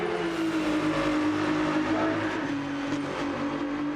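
A Ferrari race car driving in Gran Turismo 7, a steady sustained engine drone holding a fairly constant pitch at moderate volume, with no talking.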